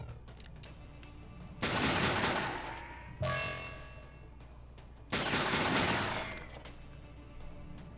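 Gunfire bursts from a turn-based shooting battle in SteamWorld Heist, two loud, dense volleys of rapid shots with a crackling sharp shot between them, set against a low game background hum.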